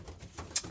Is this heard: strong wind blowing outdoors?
no